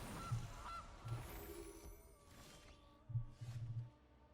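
Goose honks from the Magic: The Gathering Arena video game sound as a few low, nasal squawks in two separated bursts, moderately loud over quiet game background sound effects.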